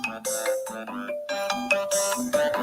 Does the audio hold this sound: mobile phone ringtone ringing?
yes